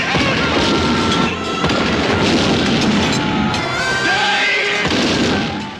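Explosions from British tanks being blown up in an Indian war film, heard as a loud, continuous wall of booming blasts and crackling debris over about six seconds with a rumbling low end throughout.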